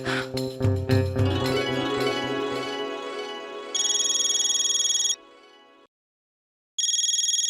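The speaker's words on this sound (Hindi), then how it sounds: "बबीता जी का फोन" An incoming call on a telephone sets off a bright electronic ringtone in two bursts, separated by a brief silence, after a loud, cluttered opening of other sound.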